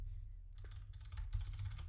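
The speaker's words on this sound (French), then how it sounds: "Je mitraille les touches de mon clavier." Rapid, steady typing on a computer keyboard, close and fairly quiet, with dense bursts of clicking keys over a low background hum.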